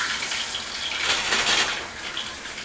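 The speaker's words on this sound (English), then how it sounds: "I'm gonna start the shower off cold, then turn it hot after a minute, and then turn it cold again to finish it out." A shower runs steadily, a continuous hiss of falling water that swells slightly in the middle and holds at an even, moderate level throughout with no voices.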